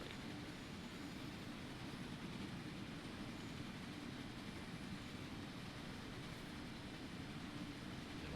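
A diesel train runs in Train Sim World 4, a dense steady rumble and roar from the engine and rails that holds even and unbroken throughout.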